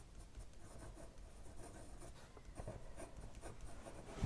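A pen nib scratches and rubs softly across Kansen XL mixed media paper while swatching Colorvent ink, a faint, close, intermittent scraping with brief pauses between strokes.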